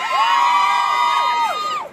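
A concert crowd at a dancehall show screams and cheers loudly for about two seconds, a sustained high-pitched roar of mostly young voices, fading out at the end.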